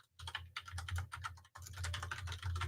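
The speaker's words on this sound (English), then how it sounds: "Oh, only if I could type my password." Rapid keystrokes clatter on a computer keyboard as a password is typed, two quick bursts separated by a short pause, close and crisp with no talk.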